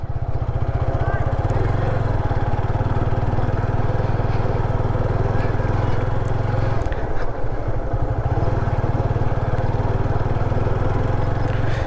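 Yamaha FZ25 motorcycle engine on a test ride, a loud steady drone running throughout with a brief dip in the middle, while a voice speaks over it.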